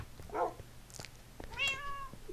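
A cat in a video game meows in two short, fairly close calls, the second longer and more tonal, over a quiet low hum.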